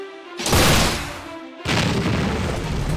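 Two heavy incendiary shots from the Boar II unit blast in a video game, each a loud booming burst with a long noisy tail, the second following about a second after the first.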